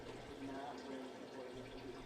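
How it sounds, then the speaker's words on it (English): Water mixed with cleaning solution drains steadily from the cooking well of a Broaster pressure fryer, a continuous loud rushing flow with a voice speaking over it. "drain all water and cleaning solution out of the well and dispose of it properly"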